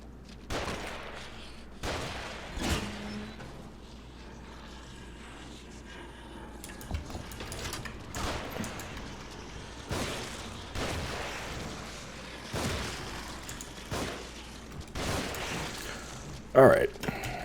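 Gunfire in the horror video game The Evil Within pops as scattered, sharp shots with uneven gaps, mid-distance and moderately loud, over quiet game ambience.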